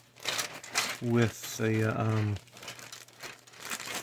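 Big plastic bag holding Revell F-4J Phantom model kit sprues crinkles loudly and close up, with bursts of rustling under someone speaking briefly.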